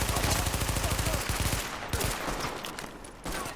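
Rapid gunfire in the video game The Division, a dense burst of repeated shots for about a second and a half, followed by scattered single reports and impacts over background game noise.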